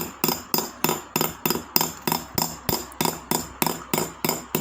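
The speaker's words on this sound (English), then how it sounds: "we totally learn how to hammer metal towards the seeded stones" Hammer driving metal toward seeded stones in jewelry stone fitting, a regular series of crisp close metallic taps, roughly three per second, with no talking.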